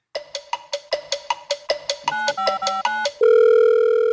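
A telephone call goes out to a friend: a quick series of short dialing tones leads into chirping ring tones, then a steady sustained tone.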